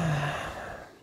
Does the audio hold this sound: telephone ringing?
no